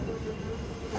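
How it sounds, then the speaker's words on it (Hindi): The Shalimar Express, a passenger train on a Lahore to Multan run, coming to a halt at Sangla Hill Junction, a steady low rumble of railcars with a faint squeal from the wheels. "दोस्तों ट्रेन रुक चुकी है जी सांगला हिल जंक्शन पे"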